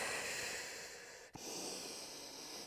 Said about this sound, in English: Breathe into the ribs, exhale